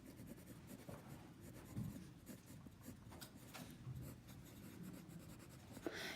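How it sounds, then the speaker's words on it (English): A pen or pencil scratches out a word by hand on paper, steady soft rubbing strokes with brief pauses, close and quiet. "let me write the actual word"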